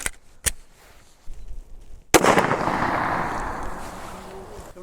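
A pistol test-fires Winchester Active Duty 115-grain flat-nose ammunition. A sharp, loud report cracks out close by, with a softer earlier pop, and is followed by a lingering noisy wash and rumble.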